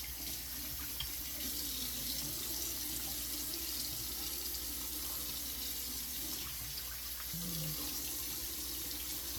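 Running tap water at a bathroom sink, hands scooping and splashing it onto a face, a steady close rush of flow with no talking.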